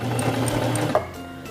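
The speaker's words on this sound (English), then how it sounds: "press and hold the reverse lever, and sew backwards a few stitches" A Singer Simple 3232 sewing machine stitches in reverse, a steady close mechanical whir with rapid needle rhythm that stops abruptly near the end, no talking.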